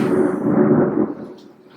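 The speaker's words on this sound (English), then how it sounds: "it's thundering during a vlog" Thunder rolls outdoors near a bay, a loud deep rumble that holds for about a second and then fades away.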